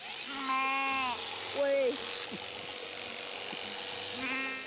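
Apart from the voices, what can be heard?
sheep bleating, lambs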